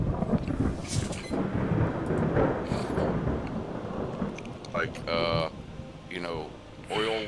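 A thunderstorm in the naval video game Ultimate Admiral Dreadnoughts: a rolling rumble with rain and wind noise throughout, with a voice calling out over the storm near the end.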